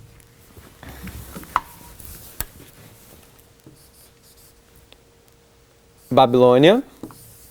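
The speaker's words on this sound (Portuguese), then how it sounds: "Eu vou tentar desenhar aqui." Marker strokes scratching on a board while a diagram is drawn to illustrate a prophecy. The scattered short scrapes and taps are interrupted by someone speaking.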